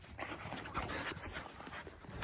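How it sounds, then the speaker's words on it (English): Dasha the dog pants close by in quick, soft, breathy rhythm, with a faint whimper mixed in, steady and low in level throughout. "My dog Dasha is joining us."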